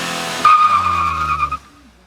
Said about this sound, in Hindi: हाँ स्पिन जरूर करे टायर।